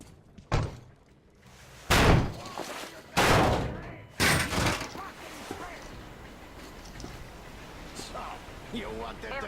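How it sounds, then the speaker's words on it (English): In the Metro Exodus video game, a heavy door is shoved open in several loud, booming thuds and slams, followed by clattering and rumbling. Voices talk through the later part. "The door's giving. Let's give it a shove"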